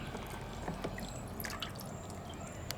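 Water runs over a live lobster with its mouth taped as it is rinsed off, a close, steady trickle with small splashes and drips throughout.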